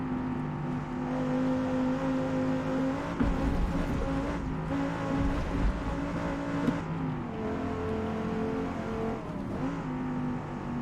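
A race car engine howls around the Nordschleife in a racing video game, held at high revs with steady tonal drones, brief dips and re-accelerations as it shifts and brakes, loud and close throughout.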